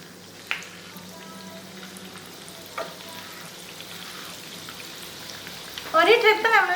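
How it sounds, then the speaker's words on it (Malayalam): Batter-dipped banana pieces drop into hot oil heated at medium, with a couple of soft splashes and faint crackle first, then a loud burst of bubbling sizzle near the end. "അതിലേക്ക് ഓരോ പീസ് പഴം നമ്മൾ റെഡിയാക്കി വെച്ചേക്കണ ബാറ്ററിൽ മുക്കിയിട്ട് നമുക്കിടാം"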